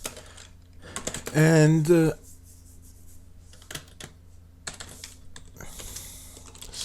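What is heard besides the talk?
typing on a computer keyboard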